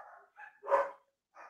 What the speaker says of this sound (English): Can you hear the dogs barking?